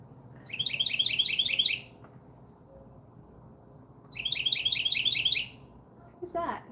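A small brown bird gives two fast bursts of high, evenly spaced chirps, each lasting about a second and a half with a quiet gap between. A brief voice comes in at the end.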